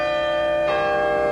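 Church bells of St. Mary's in the English village of Twyford ring loud and sustained, with a rich, steady hum and a fresh strike near the middle.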